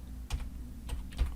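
Three or four sharp keystrokes tapped on a computer keyboard while entering letters and numbers into a program, spaced irregularly over a quiet low hum.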